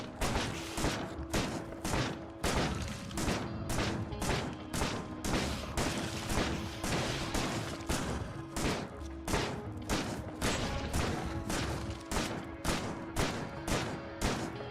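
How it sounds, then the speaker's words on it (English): Rapid, repeated shotgun blasts fired at stone in the Factorio video game form a steady, loud, near volley of sharp bangs with metallic clinks, continuing without pause and without talking. "You can hear the tink of the shotgun shell hitting the stone."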